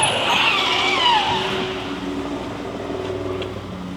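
A silver Ford Ranger pickup driving past, steady engine and tire roar with a brief squeal early on, fairly close and continuous.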